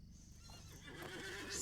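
A horse in the online game Lord of the Rings Online (LOTRO) lets out a single loud whinny that rises into a high, drawn-out neigh toward the end, with faint hoof clip-clops underneath.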